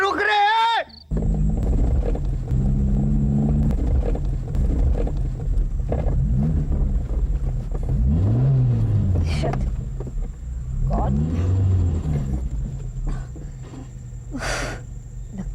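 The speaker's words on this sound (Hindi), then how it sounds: "लगता है गाड़ी में कुछ खराबी आ गई है।" A car engine in a night scene of a Hindi TV thriller revs in repeated rising and falling surges, straining and sputtering as though failing to catch, loud and close over a steady background hum.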